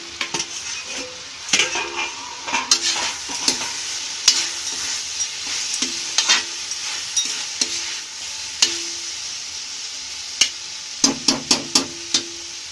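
Aloo matar, a dish of potato and peas, cooking slowly on a low flame with a steady soft sizzle. A few sharp clinks and stirring knocks from a utensil against the pan come and go throughout.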